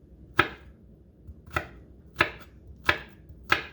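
Knife mincing a clove of garlic on a cutting board: five sharp, distinct chops at an uneven, unhurried pace, close up with no voices.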